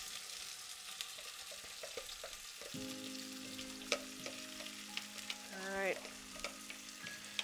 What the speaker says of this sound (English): put all this wet ingredients directly into the oil like so